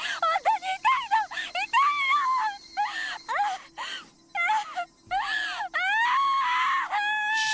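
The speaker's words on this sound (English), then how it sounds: "How did she get the screams this realistic?" A young woman screams and wails in pain in the Higurashi When They Cry video game, with repeated high, quavering cries broken by short gasps, then a long sustained shriek near the end, loud and close.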